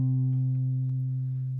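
A single sustained acoustic guitar note on the open A string rings steadily on its own, fading only slightly over a short moment.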